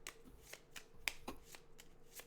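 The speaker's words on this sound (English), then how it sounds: "Let's shuffle, shuffle, shuffle." Shuffling a deck of cards on a virtual tabletop with a deck of illusions, a quiet run of soft riffling swishes and light snaps repeating steadily for a couple of seconds with no talking.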